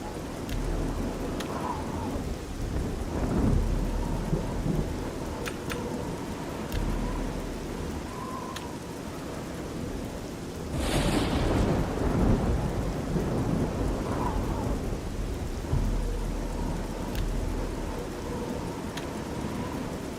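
Video game thunderstorm: steady rainfall hisses throughout with low rolling thunder rumbles, one louder crack of thunder near the middle, no voices.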